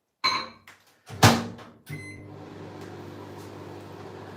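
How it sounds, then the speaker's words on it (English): A microwave oven heating a cup of coffee: door clunks and a beep, then a steady close hum of the running oven fills the rest. "I'm just gonna microwave my coffee"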